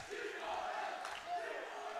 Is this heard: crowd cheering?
yes